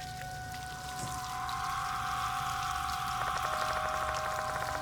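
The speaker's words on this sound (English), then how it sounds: "Guess that explains the sound of the running water." In the game Death Mark 2, slender rubber hoses spew filthy water everywhere: a steady rushing gush with a watery, tonal hum that grows fuller partway through and keeps going without a break.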